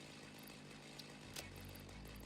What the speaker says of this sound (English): you can use the chainsaw as an area effect for the glass